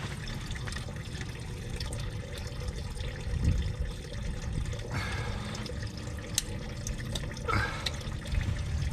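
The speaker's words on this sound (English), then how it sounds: "So we're going to go ahead and drain the whole system out." Coolant drains from the cooling system of a 2015 Ram 2500 in a steady, faint splashing trickle, with occasional louder drips and clunks of handling and no talk.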